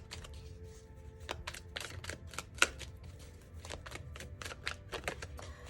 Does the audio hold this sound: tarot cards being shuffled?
yes